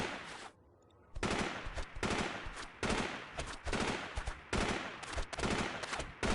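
Enemy automatic gunfire in the video game Delta Force 2: several sustained loud bursts of rapid shots separated by short gaps, dense and rattling, with no speech.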